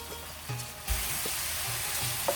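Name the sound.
minced meat frying in its own fat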